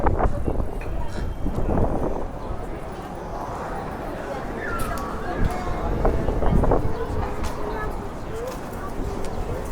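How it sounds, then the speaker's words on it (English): Gusts of wind buffet a microphone outdoors on a Barcelona street, making low, rumbling bursts that rise and fall in strength throughout, with background street noise mixed in. "I've got some wind here"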